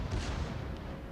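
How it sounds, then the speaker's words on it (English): The Scharnhorst's secondary guns fire in World of Warships, a dense, continuous roar of booming gunfire with no clear gap between shots, loud and close throughout. "So I'm chasing him here, and my secondaries go off"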